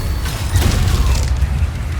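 The Reaver Shot, a ballistic iron mace weapon in a medieval-themed Doom game, fires with a dense booming blast and mechanical rumble, loud and sustained over heavy low-end game noise.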